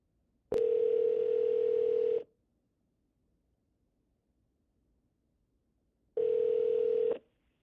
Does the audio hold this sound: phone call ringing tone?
yes